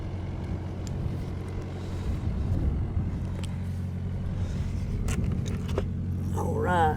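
A welding truck's engine idles nearby with a low, steady rumble throughout, while voices and brief metallic clinks and rattles sound over it.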